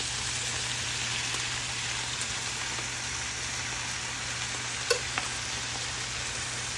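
Udon noodles being stirred together with mushroom sauce in a pan give a steady, close sizzle and frying hiss, with a couple of brief clinks of utensil against the pan.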